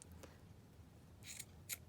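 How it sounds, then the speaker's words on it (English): Scissors trimming the edges of avocado-dyed guest check paper, two short crisp snips close by against a faint room hush, the second cut brief and sharp. "I'm just going to trim off the sides here"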